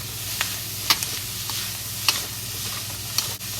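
Shredded pork, carrots and pepper sizzle steadily as they are stir-fried in a pot, with sharp scrapes and clinks of a utensil against the metal every second or so, close up and with no talking.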